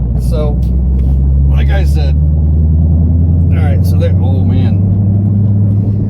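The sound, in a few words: 2011 Ford Mustang GT accelerating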